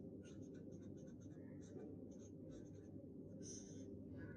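Chalk or marker strokes on a board during a maths lecture: a series of short scratchy squeaks in irregular bursts, close and faint over a steady room hum.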